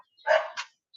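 A dog gives a single short bark followed by a softer yip, close and brief against silence.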